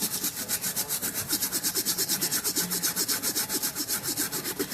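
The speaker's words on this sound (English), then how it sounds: "it's scraping and scratching the dirt off that's been locked on it" A metal brush scrubs hard against Air Jordan 1 and LeBron Soldier sneakers to lift caked dirt, a fast, steady back-and-forth rasping scratch, close and continuous with an even rhythm.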